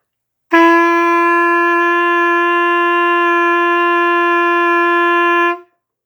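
A clarinet sounds one long, steady open G note, close and full, held for around five seconds before stopping cleanly.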